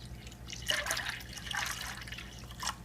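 Distilled water pours into a container to dilute engine coolant for a Mercedes ML, a close trickling and splashing stream with a few dripping bursts over a low background hum.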